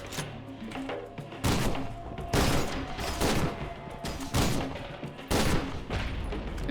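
Bursts of gunfire in F.E.A.R. 2: Project Origin, several dense volleys of rapid shots separated by short lulls, loud and continuous over a low rumble.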